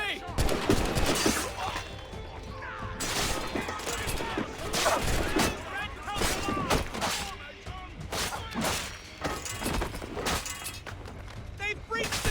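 Repeated gunfire volleys crackle through a battle in Assassin's Creed Rogue, sharp bursts and thuds recurring over about twelve seconds, with shouting voices throughout.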